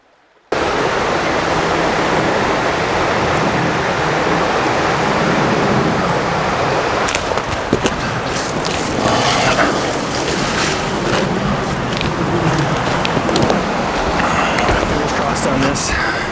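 A river in the Pacific Northwest wilderness rushes steadily and loudly from start to finish, a dense broadband wash of flowing water with brief splashy bursts partway through.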